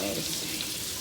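Bacon-wrapped shrimp and a coleslaw stir fry with mushrooms and liquid aminos frying in a pan, a steady close hiss of sizzling with faint stirring, no talking.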